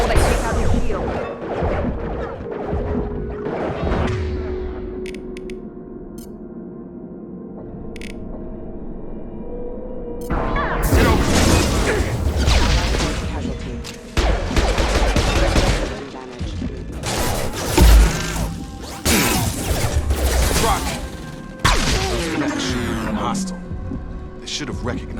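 Bursts of hostile mech gunfire in Mass Effect 2, loud clattering volleys and crashing impacts repeating through the scene, mixed with shouted voices and combat chatter.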